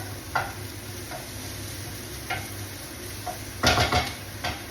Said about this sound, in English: I'm just going to let those onions cook off